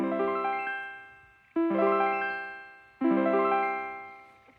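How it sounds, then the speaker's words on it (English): An Omnichord OM-84 or OM-108 on voice 1 plays a C note three times with the sustain set midway, each tone a bright organ-like chord that attacks sharply and decays slowly, clean and close with no talking. "So with the sustain in the middle, voice 2 down, voice 1, I'll play a C. This is what voice 1 sounds like."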